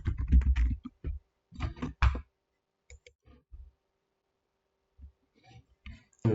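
A project name being typed on a computer keyboard: quick bursts of close, crisp key clicks, then a pause and a few scattered single taps.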